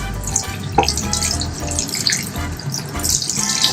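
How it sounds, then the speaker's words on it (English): Tap water runs steadily as it rinses relaxer texturizer out of a client's hair at a barbershop sink, a continuous splashing hiss broken by soft irregular spatters as a hand works through the hair. "I'm rinsing constantly, working it with my hand"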